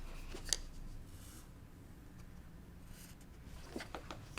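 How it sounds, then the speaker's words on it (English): Scissors cutting cross stitch fabric for a small fabric basket, giving a couple of faint, brief snips spaced a few seconds apart in a quiet room. "We're going to cut."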